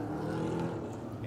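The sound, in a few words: EuroNASCAR race cars weaving, from a sim racing video game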